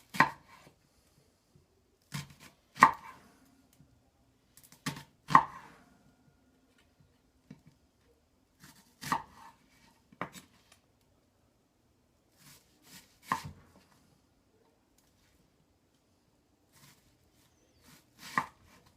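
A knife chopping food into larger chunks on a board while making New Orleans pasta, heard as about a dozen sharp, close taps in small irregular clusters separated by quiet gaps.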